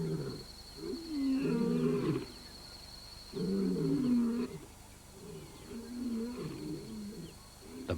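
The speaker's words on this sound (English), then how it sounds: "The bachelors' challenging roars stop the Pride males in their tracks." Bachelor male lions give challenging roars, three loud, close bursts of deep grunting roars separated by short pauses, over a faint steady background hum.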